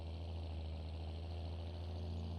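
A tractor engine in Farming Simulator idles steadily, a low, even rumble with a constant hum, close and unchanging with no other sounds.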